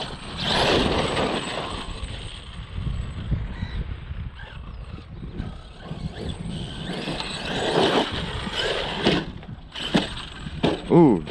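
An Arrma Kraton M2C RC monster truck crashes, with engine whine, clattering impacts and scraping bursts at close range, the loudest hits coming near the end, while a person talks over it.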